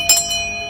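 A short bright bell chime rings out twice, the first strike louder, with clear sustained metallic tones lingering and fading.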